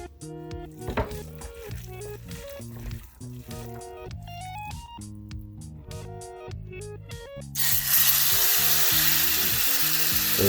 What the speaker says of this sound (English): we're gonna put in this brown chicken breast, and we're gonna make this fry a little bit.